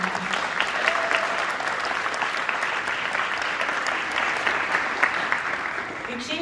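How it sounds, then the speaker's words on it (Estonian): Audience applause at a dance association gala, a steady wash of many hands clapping throughout, dense and sustained at an even loudness with no speech over it. "aga plaksutame"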